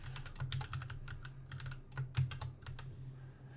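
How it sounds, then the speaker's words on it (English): Quick bursts of typing on a computer keyboard, soft and close, with irregular clusters of key clicks and brief pauses between them. "and then I type the column name"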